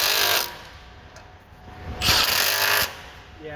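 A power tool cinching 15 mm nuts on the fuel lines of a 2011-16 Ford 6.7 Powerstroke, heard as two loud, close bursts of buzzing tool noise separated by a quieter pause.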